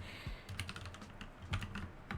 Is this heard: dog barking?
no